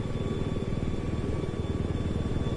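Scout helicopter in Battlefield 4 droning steadily with a rapid, even rotor chop, loud and close, continuous throughout with no voices.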